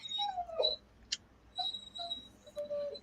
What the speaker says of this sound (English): that is our granddaughter's dog